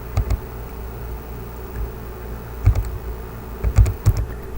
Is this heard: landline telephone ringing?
no